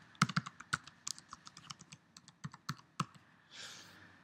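Card details are tapped out on a computer keyboard: a string of close, irregular key clicks, then a soft rushing noise near the end, with no voices.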